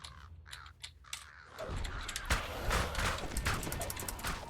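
Crows cawing in the fantasy game DDO (Dungeons & Dragons Online), a series of sharp repeated caws over busy game ambience with footsteps and clatter, and a voice talking in the background.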